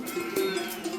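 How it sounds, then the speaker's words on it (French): A flock of ewes on transhumance, about 300 sheep, bleating as they walk, with a steady, droning bleat over a dense outdoor background and no talk. "Ces 300 brebis qui marchent dans nos pas ne sont qu'une partie du cheptel familial"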